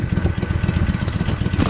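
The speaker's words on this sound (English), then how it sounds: "Got an exhaust leak." A Kohler Command Pro engine with a leaking exhaust and a holed muffler runs steadily up close, a loud, rapid, even chuffing pulse with no talking.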